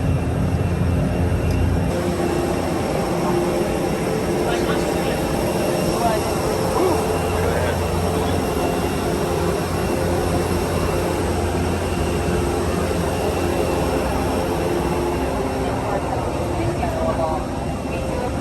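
A steady, loud roar of airplane engines fills the passenger cabin during a flight from Michigan to Florida, a constant droning hum with voices talking faintly over it.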